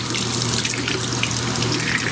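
A tap runs steadily into a sink, rinsing a silicone mat under the stream; constant, close, fairly loud splashing and rushing water with no voices.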